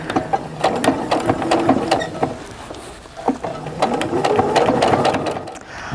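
A sewing machine stitches the edge of a bag pocket lining, a loud, close, steady rattling run of needle strokes with brief pauses and restarts.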